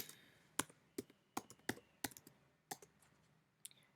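Computer keyboard keys tapped in short, separate clicks, about ten sharp keystrokes spread unevenly across a few seconds, close and fairly quiet over a low hiss.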